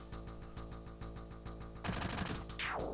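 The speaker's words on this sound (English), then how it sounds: "hit me with the beam gun" A beam gun firing in a Guard Scorpion boss fight in Final Fantasy VII, heard as rapid, evenly spaced mechanical shots. It ends in a louder noisy burst and a rising sweep.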